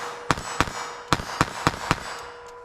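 Revolver shots of .32 S&W Long fired double action at a steel silhouette 10 yards away, six sharp reports at a steady pace, each with a bright ringing tail, loud and close with no talking.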